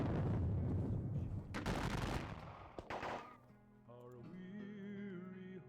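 Booming artillery and rifle fire from a Gettysburg war game, a dense rumbling barrage up close that fades into a sustained tonal sound, with no talking.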